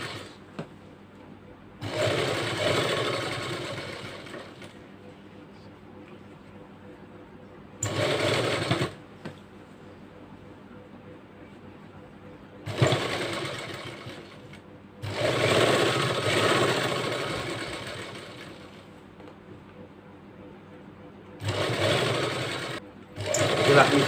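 A sewing machine stitches a blouse collar in several loud, buzzing runs of a few seconds each, with quiet pauses between them and a voice talking faintly during the gaps.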